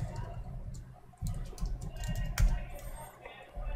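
Quick, uneven clicks from typing on a computer keyboard, close and fairly faint, in short bursts with small pauses between them.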